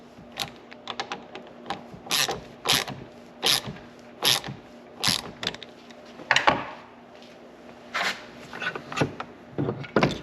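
A wrench clicks and taps in a series of sharp irregular bursts while tightening screws on a Minn Kota Terrova trolling motor steering housing to seat its seal, close by over a faint steady hum.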